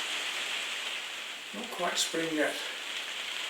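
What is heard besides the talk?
rain pattering down outside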